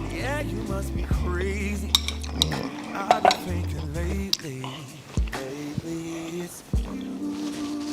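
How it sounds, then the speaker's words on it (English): Bowl and dishes clattering in a kitchen while honey garlic chicken bites are being eaten and served, several sharp clinks and knocks of cutlery and crockery scattered among people talking. "Almost dropped my bowl."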